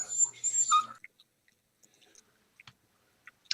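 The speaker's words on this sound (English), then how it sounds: "PJ's dog is so spoiled that if it's not held, it cries" A spoiled pet dog whimpers and cries to be picked up, a short burst of high whining followed by faint scattered yips and small noises.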